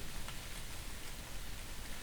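Steady rain falls in a horror story scene, a soft, even hiss of raindrops on a surface throughout, moderately quiet and with no voices over it.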